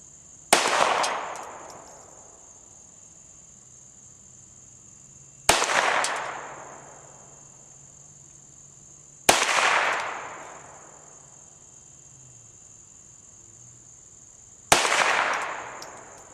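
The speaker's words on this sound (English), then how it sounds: "next we're going to try the Ruger Mark IV on the cans there at 25 yards" Ruger Mark IV .22 rimfire pistol fired at cans 25 yards away outdoors, four separate sharp cracks spaced several seconds apart, each with a short ringing decay, steady insect buzz behind.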